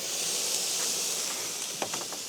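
A steak sizzles in a pan at a remote desert truck camp in Utah, giving a steady, even hiss throughout with a few faint crackles and pops near the end.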